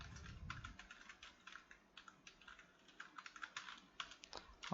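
Rapid, uneven clatter of typing on a computer keyboard, the keystrokes coming in quick bursts at close range with no one talking.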